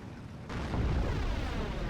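A massive Karlgerät siege mortar shell lands in Steel Division: Normandy 44, a sudden deep explosion that rolls into a long, loud rumbling boom with a sharp crack at the very end.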